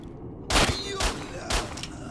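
Gunfire in S.T.A.L.K.E.R. Shadow of Chernobyl: three sharp, loud shots spaced about half a second apart, each with a short ringing tail, following a quiet moment.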